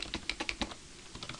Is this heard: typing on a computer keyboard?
yes